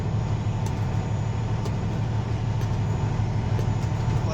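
A Class A truck pulls off from a stop during a service brake test, its engine droning loud and steady with a low rumbling tone and a faint periodic clank, no voices over it.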